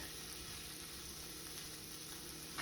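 Eggs sizzle in a one-pot skillet meal, a faint, steady crackling fry that carries on evenly with no voices.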